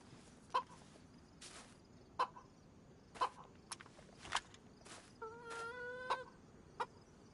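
Chicken clucking in the video game DayZ: several short, sharp clucks spaced irregularly over soft ambient noise, with a brief run of quicker clucking near the end and no voices.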